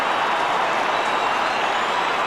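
A football crowd behind the goals at a 1992 St Kilda versus West Coast game roars in a dense, steady wash of cheering, loud and unbroken throughout.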